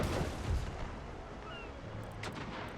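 Carronade broadsides fired from a Dutch warship in a naval video game, a heavy booming cannon report up front that rolls off into a long rumbling decay, with faint later cracks.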